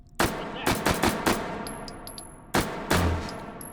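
Gunfire in the VR shooter game Take and Hold: a series of loud, sharp shots in quick bursts of several, then a pause and two more, with metallic pings ringing after.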